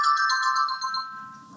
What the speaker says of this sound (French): c'est la sonnerie qui dit que j'avais raison